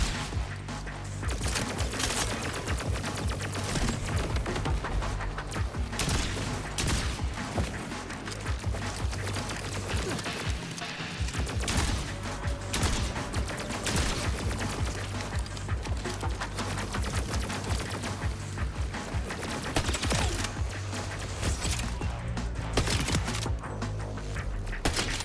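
Rapid gunfire from a powerful weapon in the Borderlands 4 video game, a dense, continuous barrage of loud shots and effects that fills the clip without pause, with game music and clutter underneath.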